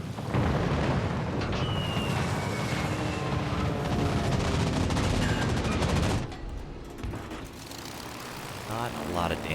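Heavy naval gunfire and explosions in World of Warships Legends, a dense, loud, continuous barrage of booms and rumbling for about six seconds before dropping to a quieter hum with a few later blasts.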